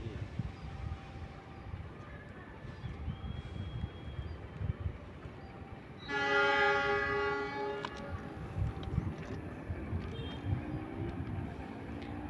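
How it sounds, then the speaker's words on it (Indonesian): A train passes on the line by an Indonesian station, its rumbling wheels steady throughout, with a loud tonal horn blast sounding for about two seconds midway and faint higher tones later. "Oh, keretanya dari jalur 1 katanya."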